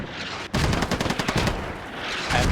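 Sustained machine gun fire in a competitive military video game match between BLUFOR and TLR, rapid rhythmic bursts starting abruptly and continuing loud and dense amid a rumbling battlefield background.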